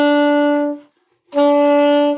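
An alto saxophone plays a steady sustained note B, pauses briefly, then plays the same note again, clear and close.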